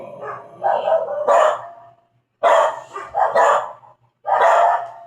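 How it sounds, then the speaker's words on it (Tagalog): A house dog barks at visitors in a series of loud, close yaps and woofs in bursts separated by brief silences, no talking over it. "Mayroong kasing aso. Pag may bisita, maingay."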